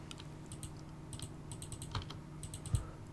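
Rapid, uneven keystrokes on a wireless computer keyboard while setting up a game, light clicks in short bursts with a slightly louder tap near the end, close and alone.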